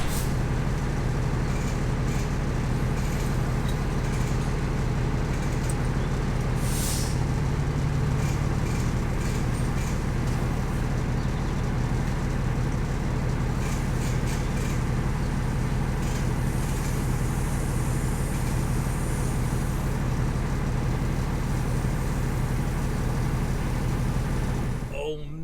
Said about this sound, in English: It's a semi. It's a stuck semi.